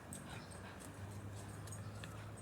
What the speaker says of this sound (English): My dog is being a naughty no-no today